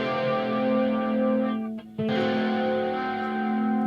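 Electric guitar played through a Marshall amp with effect plugins, a loud sustained distorted chord ringing with rich overtones, briefly choked off and then struck again to sustain once more.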